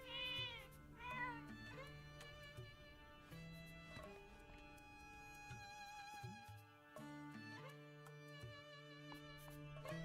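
Repeated cat meows from Zelda: Echoes of Wisdom, a couple of sharp cries at the start followed by softer mews scattered over sustained game music and tones throughout.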